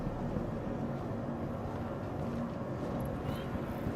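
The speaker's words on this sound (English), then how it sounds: "give the Clipper a listen when the engines are powered down in third-person view" A Clipper spaceship in Star Citizen sits with its engines powered down, heard from a third-person view. A steady, low, rumbling hum drones on evenly throughout, with no talking.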